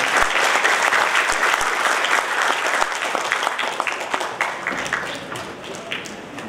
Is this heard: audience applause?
yes